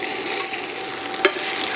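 Spätzle fries in browned butter with golden onion, a steady close hiss of sizzling fat with one brief utensil clink partway through, no voices.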